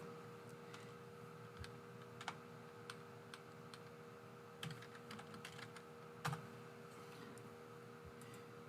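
Excel formulas typed on a computer keyboard, with scattered close key clicks and occasional louder spacebar or enter strikes over a steady electrical hum, in sparse irregular bursts.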